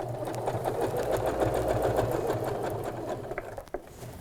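Domestic sewing machine stitching a sleepover bag, a steady close whirring chatter of the needle that slows and stutters near the end as the handwheel is turned, finishing with a soft clunk.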